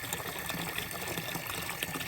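Clean spring water from a mountain source pours steadily from a fountain on a Swiss trail, a continuous close splashing gush with no pauses.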